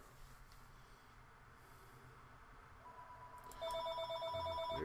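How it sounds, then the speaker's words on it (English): A telephone rings faintly in a quiet room, its electronic tone pulsing in a rapid repeating pattern that swells louder toward the end, with no talking. "There's the phone."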